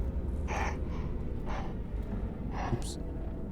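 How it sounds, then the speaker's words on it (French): Female character in the video game Martha Is Dead panting out of breath, with a few short breathy gasps spaced about a second apart over a steady low background hum. "Elle s'essouffle."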